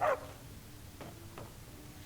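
A dog in Skyrim lets out one sharp bark at the start, followed by two fainter, more distant yips over a low ambient game background.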